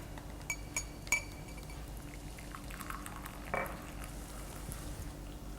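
Glassware clinks a few times as a glass is handled while serving Syphon coffee, followed by a brief soft pour, all close and quiet, with no talking.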